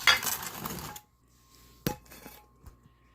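A bowl of chopped vegetables is scraped and moved onto a tray, giving a rattling shuffle followed by a couple of sharp clinks and a soft knock, close and alone.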